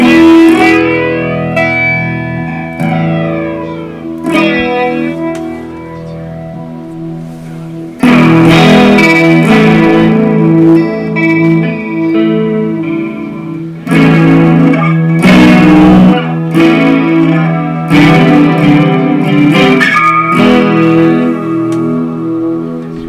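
A custom-built B.C. Rich electric guitar plays loud, heavily distorted chords and riffs through an amplifier's main channel, with sustained ringing notes, brief pauses and a sharper, busier passage in the second half; no talking.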